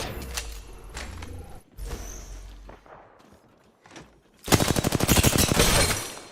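Gunfire in Apex Legends, a few scattered shots and thuds followed by a loud, sustained rapid burst of automatic fire near the end.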